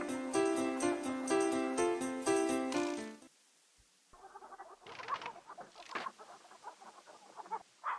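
A chicken clucks in the King's Quest III computer game, giving short, scattered clucks right after a burst of game music cuts off.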